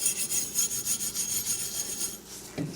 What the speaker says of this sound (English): we're just going to start rubbing the surface of the gun